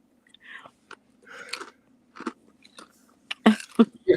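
Someone crunches and chews crunchy food close to the microphone, in irregular bursts of bites and mastication with brief pauses between them, louder toward the end.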